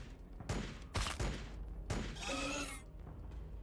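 Gunfire from a squad shooting in Warhammer 40K: Battlesector, a few loud bursts and booms in quick succession, close and alone without talk.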